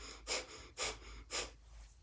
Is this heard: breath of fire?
yes